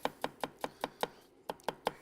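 Knife thinly slicing vegetables on a cutting board, a run of crisp evenly spaced chops at a brisk steady rhythm with one short pause, close and clear without speech.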